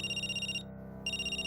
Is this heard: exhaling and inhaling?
no